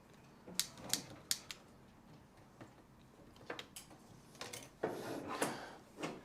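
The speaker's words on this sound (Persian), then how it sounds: "ضربه زدنش هم رو میز به بچه‌ها آموزش بدید" The end of a metal corset boning spring is tapped against a tabletop in a series of sharp, light clicks and knocks, irregular and close, with faint handling noise between them.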